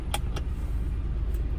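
Inside a car about to leave, a steady low engine rumble fills the cabin, broken by a couple of sharp, close clicks or jingles near the start and another faint one later.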